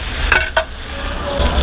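Chaap coated in masala fries in a pan with a continuous close sizzle, punctuated by a couple of sharp stirring clinks and scrapes early on.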